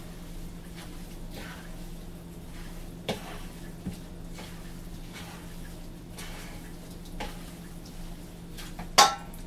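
Cheese filling for spanakopita is stirred in a large pan, a quiet wet scraping and mixing with occasional clinks of utensil against the pan.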